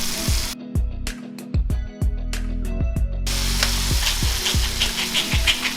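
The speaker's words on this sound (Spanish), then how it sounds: "y ya casi tengo listo el sofrito. Un toquecito de vinagre, más o menos una cucharadita." Sofrito with a splash of vinegar frying in a pan, giving a steady sizzle broken by several sharp clanking knocks of a utensil against the pan, close and fairly loud.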